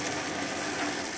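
A Ford E150 van's 351 V8 engine idles after a long stretch of idling, with the fan running, giving a faint, steady low hum with a dense hiss over it, no voices.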